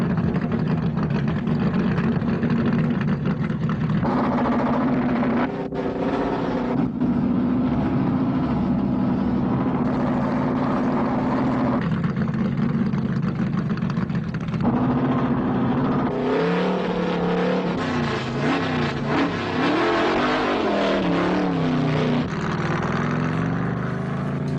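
Race cars roaring steadily around a track in Ontario, California, in 1971 as a caution comes out after a blown engine, with a loud, continuous engine drone that rises and falls as cars pass.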